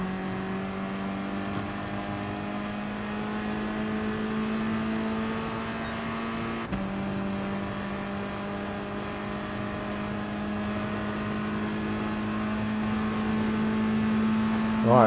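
A race car engine in the GT Sport video game holds a steady, loud harmonic drone on the final lap, easing slightly and rising toward the end with no break in the tone.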